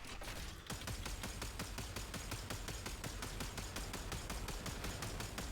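Rapid, evenly spaced bursts from the Kuva Grattler heavy weapon in Warframe, a loud unbroken volley of booming shots after a brief pause at the start, with no voices over it.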